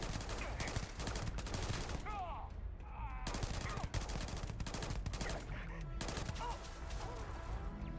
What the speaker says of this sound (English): It's a hip fire machine, which makes sense because it's meant to be an SMG more so than anything else.